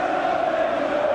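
Football crowd at a 1991 FA Cup match between Tottenham and Arsenal roars in a steady, dense wash of voices with a sustained chant-like tone, loud and continuous throughout.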